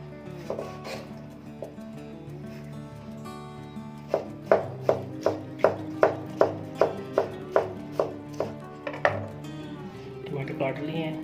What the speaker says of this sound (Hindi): टमाटर काट लिए हैं